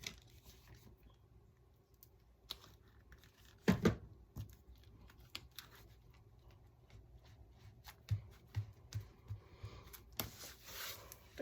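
Scissors cut paper for a slim journal cover in a quiet room, making soft, scattered snips and rustles with a few sharper cuts.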